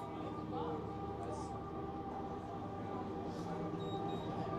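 A train rolling past a college baseball field, a steady low rumble with rail clatter, fairly distant, under the play-by-play of a game announcer talking.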